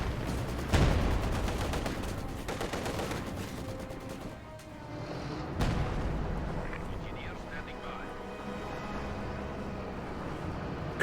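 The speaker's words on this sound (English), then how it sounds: "Katyusha is being deployed now." Katyusha rocket artillery barrage in Company of Heroes 2, a dense rumbling roll of launches and impacts with sharp bursts near the start and middle, steady battle noise throughout.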